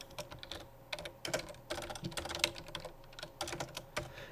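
Typing on a computer keyboard while entering commands in a Minecraft let's play: fairly quiet, irregular bursts of key clicks and clacks with short pauses, close to the microphone and with no talk.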